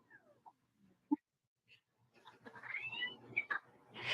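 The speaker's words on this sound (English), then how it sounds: "Those cats are fighting." Cats fighting outdoors: a few scattered faint meows and yowls at first, then a rising, louder stretch of overlapping caterwauling and hissing growls toward the end, heard alone without talk.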